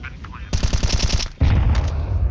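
Counter-Strike 2 gunfire crackles in a rapid automatic burst of loud shots, followed by a heavy impact and a noisy tail, with a voice faintly underneath.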